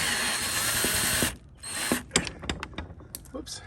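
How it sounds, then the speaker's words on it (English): A solar dock light being screwed into a fence door, with a steady whirring drive for about a second, then a stop followed by scattered ratcheting clicks and small mechanical knocks close by. "So I'm just gonna really just kind of screw it right in there."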